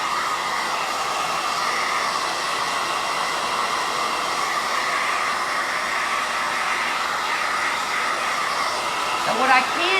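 A hair dryer blows steadily in a continuous whooshing drone for ten seconds as it dries a Christmas craft piece, loud and close, with a faint voice briefly near the end.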